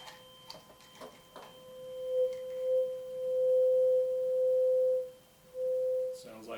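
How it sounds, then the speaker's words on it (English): A 512 Hz high C tuning fork rings over a resonance tube as a pure, steady tone that swells and fades in several stretches, fairly faint, with brief voices at the start and end. "The third tuning fork I'm going to do is the musical note C. It's 512 hertz."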